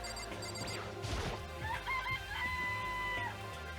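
Chicken sounds from the video game Danganronpa, a few close crowing and clucking calls with a sharp crash-like hit near the start, set over steady game music.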